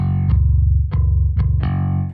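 Low-tuned bass software instrument playing a higher F#, four thick distorted plucked notes repeating in a steady line, loud and sustained with a buzzing low growl.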